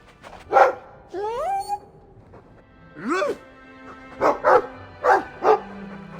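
A dog in the video game Dragon Age II gives several short barks and yips in separate bursts, with a voice speaking over them and a whiny, rising sound early on.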